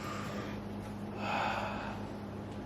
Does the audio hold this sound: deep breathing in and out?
yes